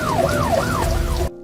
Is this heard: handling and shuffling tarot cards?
no